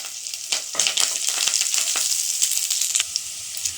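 Garlic, red chilli and curry leaves fry in a pan for rice, a steady loud sizzle with crackling bursts and occasional stirring scrapes, no talking.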